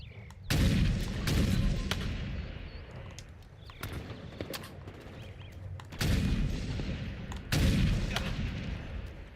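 Halo Infinite sniper rifle firing in a match, four loud sharp cracks spaced a few seconds apart, each one followed by a short rumbling tail, with quieter game noise filling the gaps between shots.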